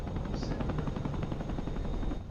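Helicopter rotor noise in the combat flight sim DCS World, a steady loud broadband thrum filling the whole stretch with faint rapid pulsing, likely mixed with gunfire, and no talk over it.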